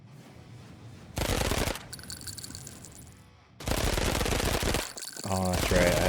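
Rapid video-game gunfire in a playtest, two sustained bursts of loud, dense automatic shots separated by quieter stretches, with a voice talking faintly between and over them.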